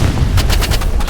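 Rapid gunfire in the Roblox Rivals shooter, a dense volley of about six sharp shots in quick succession over a constant low rumble, loud and close.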